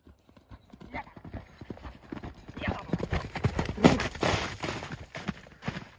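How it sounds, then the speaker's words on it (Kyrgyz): Hooves of a ridden horse running, rapid rhythmic clip-clop that builds from quiet to louder and stays close, with people talking over it. "Мына атандар атты мингенде эле чуркашынан баштады Санжар эке. Аттын чуркашын көрүңүздөр."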